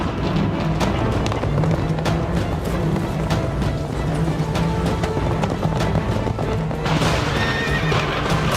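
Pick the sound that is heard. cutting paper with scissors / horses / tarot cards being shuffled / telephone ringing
horses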